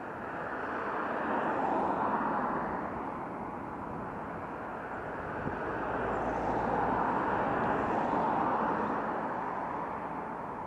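Camera drone hovering overhead near a British Oxygen Company and Air Products industrial site, a steady broadband whir that swells and eases slightly, heard alone without voices.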